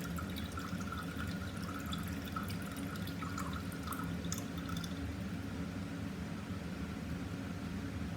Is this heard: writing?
no